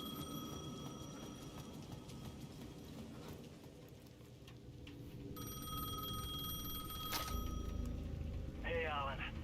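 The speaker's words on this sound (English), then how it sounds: "The payphone at the edge of the plaza was ringing again." A payphone at the edge of a plaza in the video game Alan Wake 2 rings in repeated electronic bursts, fairly faint, over a low ambient rumble and scattered clicks.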